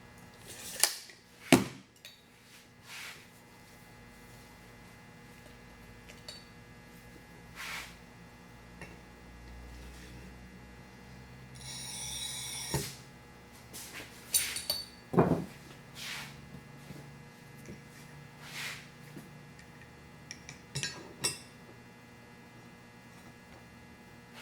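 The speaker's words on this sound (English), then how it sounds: "I've got this piece of scrap 3/4 inch thick glass. We're going to cut a piece off of it" Thick 3/4 inch scrap glass being scored and snapped in half, giving a few sharp clicks and a crisp crack over quiet room hum, with a brief rasping scrape midway.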